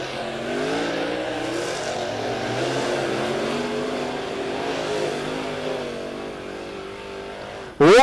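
Late model race cars roar around Lebanon Midway Speedway at the 2020 Tony Roper Memorial, a steady loud engine drone with shifting pitch as cars pass, ending in a sudden louder burst.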